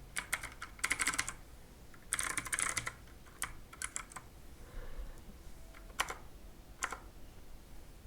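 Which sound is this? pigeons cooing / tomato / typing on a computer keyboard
typing on a computer keyboard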